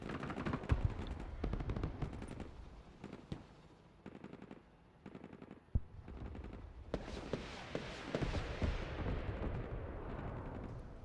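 Bursts of gunfire and heavier booms ring out in the military strategy game Broken Arrow, rapid volleys and isolated shots layered over a rumbling battle background with no talk.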